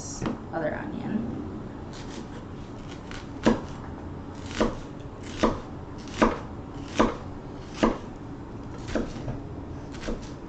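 Knife chopping an onion into small squares on a board, with about ten distinct, evenly spaced chops that ring out close and crisp against a quiet room.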